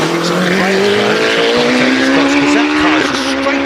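A hillclimb race car at a British Championship event roars up the track, its engine note rising steadily through the gears, loud and sustained, with a faint tyre squeal.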